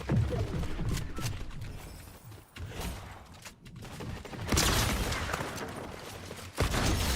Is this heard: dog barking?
no